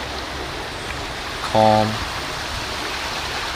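An outdoor stream flows with a constant, soft rushing wash like steady rain. A single spoken word rises briefly above the water midway through.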